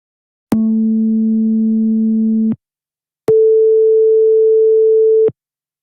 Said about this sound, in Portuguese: É o barulho do telefone. Você tira o telefone do gancho, é isso que você escuta